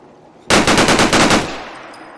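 Modern firearm from a Fallout 4 weapon mod firing a loud, close burst of about ten rapid automatic shots in quick rhythm, followed by a fading echo tail.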